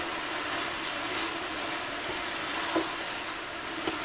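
Carrot and other vegetables sauté in a pan, giving a steady close sizzle with a couple of soft clinks from stirring.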